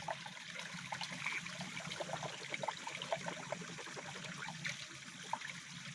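Water trickles and dribbles steadily as someone washes, a soft, continuous close-up flow with no talking.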